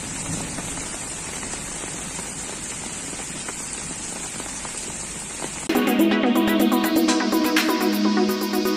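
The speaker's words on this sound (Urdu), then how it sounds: "شہر حیدرآباد میں دوپہر کے وقت مختلف مقامات پر تیز بارش دیکھی گئی" Heavy midday rain pours down in Hyderabad as a steady, dense hiss, then switches to a sharper, louder spatter with rhythmic bursts in the last few seconds.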